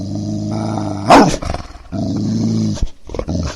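A dog growling sound effect fired from a soundboard button, a loud snarling roar that swells sharply, drops out, then returns in a second sustained growl, standing alone with no talk over it.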